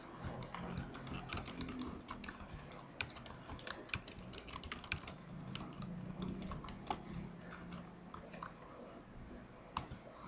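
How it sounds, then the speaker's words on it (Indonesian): Keys clatter on a computer keyboard in irregular bursts of sharp, close clicks, steady throughout with brief pauses and no talking. "Saya akan mengetik satu huruf, outputnya C."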